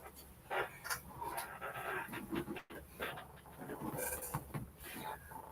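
A pet dog lying under a table pants in steady, rapid breaths close by, with faint whimpers mixed in, while someone talks intermittently in a quiet indoor room.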